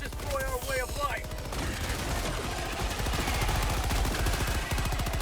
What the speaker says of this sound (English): Get the machine gun out again